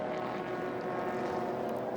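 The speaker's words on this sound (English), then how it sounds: "1216cc Coventry Climax engine in that Elite" A Lotus Elite racing car with a 1216cc Coventry Climax engine runs on circuit at a Silverstone race meeting, giving a steady, loud engine drone with no break in its tone.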